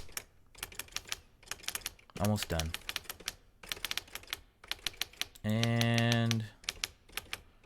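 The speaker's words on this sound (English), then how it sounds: "And oh boy, I sure like typing them." Rapid keyboard typing sound effects from the Doki Doki Literature Club mod Dreams of Literature, bursts of clicks with brief musical chimes and a sustained tone between them, a voice speaking briefly.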